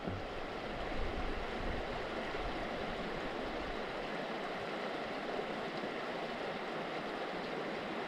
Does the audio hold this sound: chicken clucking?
no